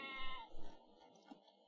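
Sheep bleat in the real-time strategy game Age of Empires, a couple of short, faint wavering bleats close together over a low in-game background.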